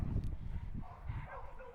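Dogs at an animal shelter giving short, muffled barks and yips at a distance, with a whimpering tone mixed into a low background.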